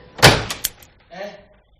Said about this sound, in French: Je vais pousser la porte et actionner le commutateur.